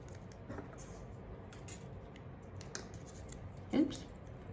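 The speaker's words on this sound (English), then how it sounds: "here I'm going to take a little piece of electrical tape just to secure that" A small piece of electrical tape snipped with scissors for a makeshift flashlight, heard as faint clicks and one sharper close cut near the end against a quiet room.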